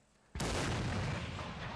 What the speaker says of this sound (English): from the 3rd Connecticut firing their fine cannon